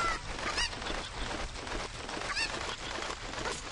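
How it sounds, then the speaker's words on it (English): Squawking cuckoo chicken in The Legend of Zelda: Ocarina of Time, a couple of sharp clucking honks over a constant noisy game background. "Grab the cuckoo."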